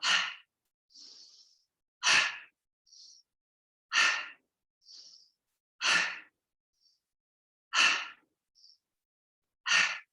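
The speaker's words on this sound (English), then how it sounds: "So inhale, arms up, short exhale" A person doing a yoga breathing exercise gives six sharp, forceful exhales through the nose, spaced about two seconds apart, each followed by a soft short inhale, close and clear against silence.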